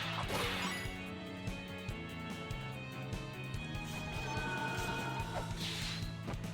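Grinding stone rumble and heavy crashing thuds of a staircase opening in the video game La-Mulana 2, loud and sustained over game music, with a brief sharp smash near the start and another near the end.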